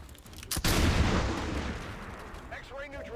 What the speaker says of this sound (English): Probably we're just going with a pistol shot